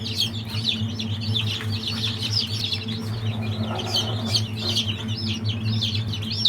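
Newly hatched chicks in a box peep constantly, a dense chorus of high, shrill cheeps over a steady low hum, close and continuous with no talking.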